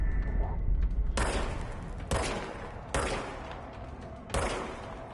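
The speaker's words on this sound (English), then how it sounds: "R2 to fire the service weapon." The service weapon in the video game Control fires four loud, sharp shots spaced about a second apart, each with a short ringing decay.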